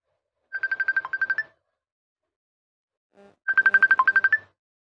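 A phone ringtone for an incoming call sounds in two bursts of rapid electronic pulsed tones, each about a second long, separated by a gap of silence, moderately loud with no talk.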